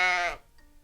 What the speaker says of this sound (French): un mouton.